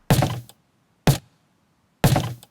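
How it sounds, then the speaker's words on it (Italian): Three heavy foot stomps on a floor, used as a kick drum: deep, dry thuds with short decays, the first and third longer, spaced about a second apart, close and alone. "la cassa appunto è fatto da un piede che sbatte a terra"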